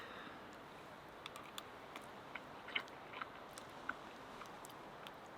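Someone chews a mouthful of canned black beans and rice at a camp meal, with faint, soft crunches and clicks scattered through an otherwise quiet stretch and no talking.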